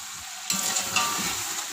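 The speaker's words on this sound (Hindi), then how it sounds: "हल्का हल्का वाटर डालते जाना है और चिकन को भूनते जाना है।" Chicken frying in a pan with black pepper, biryani masala, cloves and cinnamon, a steady close sizzle that jumps louder partway through as the pieces are stirred.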